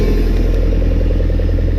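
The engine of a Dyna SC-14 wood processor runs in cold weather, a loud, steady, close mechanical chug with a continuous low drone and faint clatter, no voices over it.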